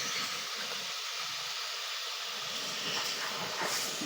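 A wood fire burning in a home kitchen stove, once the smoke clears, gives a steady close roaring hiss with faint crackles, continuous and even throughout.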